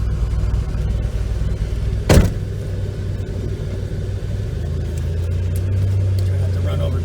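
A car with a freshly overhauled front suspension, fitted with poly anti-roll bar bushings and lower control arm support links, rumbles along a street at low speed, a steady engine drone with one brief clunk partway through.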